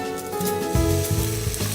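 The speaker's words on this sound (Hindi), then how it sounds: "इसी के साथ हम डालेंगे थोड़ा सा पानी ताकि मसाले जले नहीं।" Steady crackling sizzle of wet spices, including turmeric powder, hitting a hot pan, loud and close, swelling briefly as a little water goes in, with no voices.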